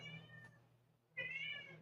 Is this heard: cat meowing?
yes